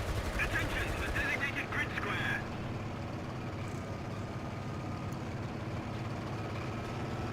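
Machine guns in War Thunder fire a rapid rattling burst for about two seconds over a steady engine rumble, and the rumble carries on alone after the burst.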